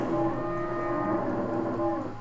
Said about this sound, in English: this herd of ghost cow heads